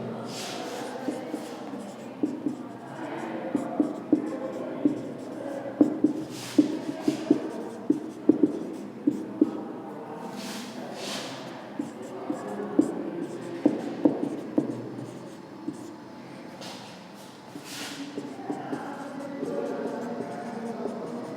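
Writing strokes sound in a steady series of soft scratches and sharp taps, repeated through the whole stretch, with someone speaking over them in a lecture setting.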